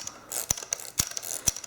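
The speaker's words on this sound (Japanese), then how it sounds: "S2 の場合は、これ巻き上げをするとですね、最後がぐっと重くなってですね、で、ここでガキッときます" A Zenza Bronica S2 film advance is wound by hand, giving a close series of ratcheting clicks and three or four sharp clacks, the wind growing heavier before a firm final catch.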